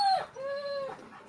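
Dogs howling, a drawn-out, wavering howl that glides in pitch, preceded by a short higher cry, fairly close and clear against a quiet background.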